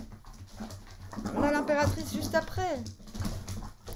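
Dogs whimper, yip and pant in playful excitement, several close bursts of high whining cries mixed in beneath a person talking steadily over them.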